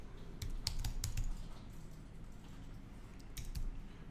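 Quiet typing on a computer keyboard while naming a new folder for an export, with a few quick bursts of key clicks over a steady background hiss and no voices.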